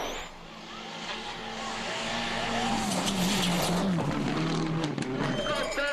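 A World Rally Championship car at the Norway Rally drives a narrow forest stage, its engine rising and falling through gear changes, loud and near, with a commentator talking over it.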